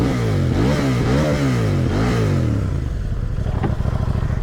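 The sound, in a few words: KTM Duke 790 motorcycle with Akrapovic exhaust revving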